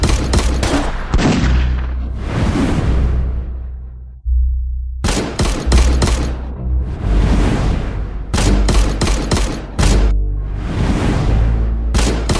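Loud bursts of automatic gunfire fill a film action scene, with rapid repeated volleys separated by brief gaps and a short lull near the middle.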